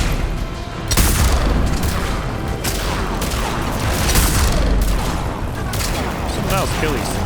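Explosions and bursts of gunfire rumble through a Mass Effect 3 battle, a loud, dense, continuous din of booms and shots with heavy low-end thuds around one, four and seven seconds, and voices faintly mixed underneath.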